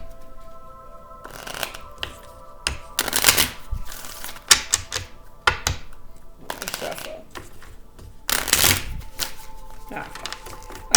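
Goddess Guidance Oracle cards being shuffled and pulled for a Gemini reading, with several bursts of crisp riffling and slapping through the stretch and quiet handling between, close and fairly soft.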